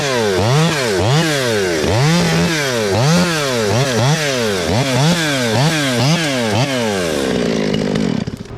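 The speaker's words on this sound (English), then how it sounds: "I'm just gonna cut some suckers. I'm gonna cut this thing." A chainsaw cuts suckers off a tree in Pennsylvania tree work, close and loud, its engine revving up and down in a steady rhythm of repeated bursts before it drops to idle at the end.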